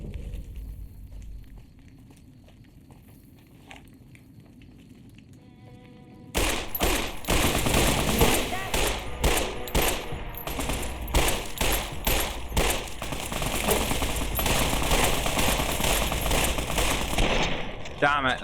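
Rapid gunfire from Fallout New Vegas erupts suddenly and loudly after a quieter stretch, continuing as dense, rattling bursts of automatic shots through the rest of the clip.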